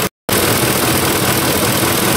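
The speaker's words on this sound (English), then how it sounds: "while the engine's warming up and running" A Ford F-Series truck's 5.4-liter 3-valve V8 idles steadily while warming up, a loud, close, continuous engine drone with a slight mechanical tick, after a brief cut of silence at the start.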